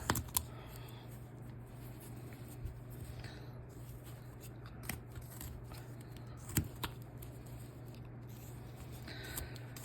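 Small knife blade paring wood on a hand carving of a Nighty Nick figure, steady quiet scraping and shaving strokes with a few sharper clicks, close and alone over a low background hum.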